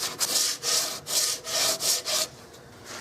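Hand smoothing of a Turkish walnut gun stock for a Carl Stiegele 16-gauge shotgun: six close, rhythmic rasping strokes back and forth, then a softer, quieter scrape.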